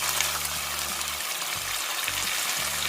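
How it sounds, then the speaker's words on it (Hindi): Ginger garlic paste sizzles in a hot pan for daal makhni, a bright continuous crackle and hiss with faint stirring scrapes underneath, close and steady with no talking. "अब हम इसके अंदर ऐड करेंगे ये 1 टेबलस्पून जिंजर गार्लिक पेस्ट"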